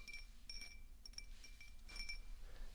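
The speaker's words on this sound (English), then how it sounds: "we're going to go ahead and do some tapping sounds. So what I have here is just a glass" Light taps on a plain glass, a handful of soft, sparse clinks spread unevenly over a few seconds, faint and close with no talking.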